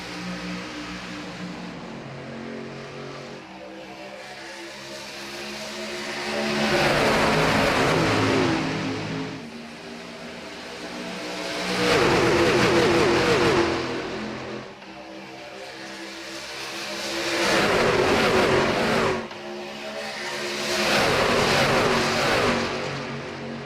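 Race trucks roar off the line at the green flag of an all-star event at Atlanta Motor Speedway in a racing video game, loud engine surges swelling and fading in repeated waves as the pack accelerates and passes.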